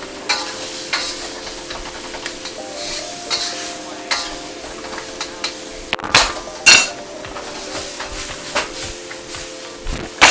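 Ground chicken mince is stirred and broken up in a hot pan, with loud scraping and knocking strokes over a steady sizzle and a few sharp clanks against the pan.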